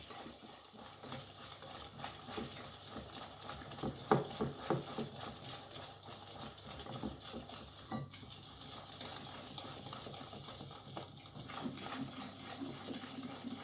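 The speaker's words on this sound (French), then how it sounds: "on bat bien les œufs et le sucre afin qu'ils soient bien mélangés" Eggs and sugar being beaten in a bowl for a strawberry tiramisu, a steady low scraping and stirring with occasional light clinks of utensil against the bowl, continuous and fairly quiet, with no talking.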